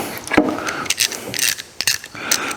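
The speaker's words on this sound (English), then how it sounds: "I have tore up my 1/4" ratchet somewhere along the line. It don't hardly ratchet anymore." A worn 1/4-inch ratchet wrench, used while working on an Onan 4000 watt generator, gives a loud, close run of uneven mechanical clicks with irregular spacing and short pauses, no voices.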